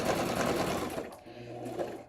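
A home sewing machine stitches a paper-craft mini album in a steady, dense mechanical whir that runs loud and close, then thins out near the end. Faint background talk sits underneath.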